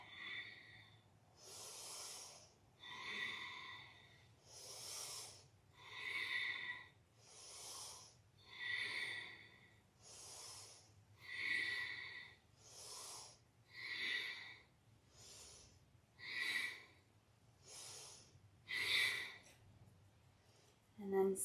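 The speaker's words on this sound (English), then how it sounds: "And this is your bellows breath." Rapid, forceful rhythmic breathing of kundalini yoga bellows breath, about fifteen strong, evenly spaced nasal exhale-inhale bursts, close and breathy over a low hum.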